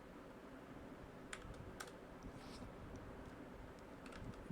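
Quiet computer keyboard typing as Python code is entered, scattered soft key clicks in short irregular bursts over a steady faint background hum.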